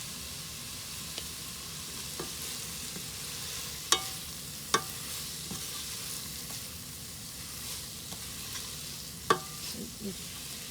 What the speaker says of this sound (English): I give the meat with the ingredients a really good stir